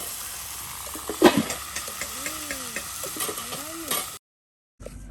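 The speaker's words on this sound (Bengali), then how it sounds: "এই যে এখন আলু কুচি তার সাথে পটল কুচি একসাথে দিয়ে দেওয়া হলো।" Chopped potato and pointed gourd fry in a pan for a riverside village morning meal, giving a steady faint sizzle and crackle, briefly broken by a louder clatter, with birds calling in the background before a short silence.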